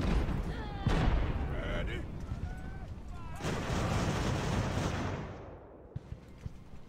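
Cannon fire in the naval battle game Ultimate Admiral: Age of Sail, landing on Block Island, booms in a few heavy blasts followed by long rumbling, crackling noise, with distant shouting voices mixed in.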